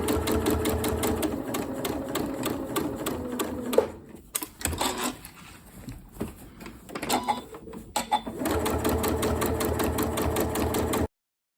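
A sewing machine stitching a bag lining with a short backward-and-forward pass: a loud, rapid mechanical whirr that stops and starts, with a quieter stretch of handling clicks in the middle before steady stitching resumes.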